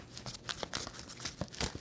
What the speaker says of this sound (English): 2 more shuffles for Aries.